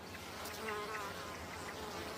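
Bees working apple blossoms make a steady, close buzzing drone with wingbeats rising and falling as individual insects pass, continuous and alone with no voices.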